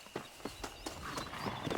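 Horse hooves clip-clop at a steady walking pace in Red Dead Redemption 2 on a ranch, roughly seven distinct strikes spaced evenly, close and moderately loud with light background ambience.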